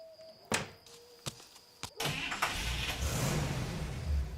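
A touring car at night: several sharp thunks like doors closing, then an engine starting and a steady motor rumble as the car pulls away.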